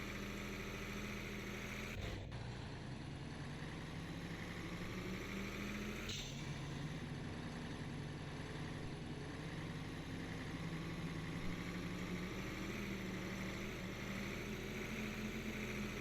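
A truck engine pulling in second gear in a trucking video game drones steadily and loudly throughout, with two brief clunks early on and no voices.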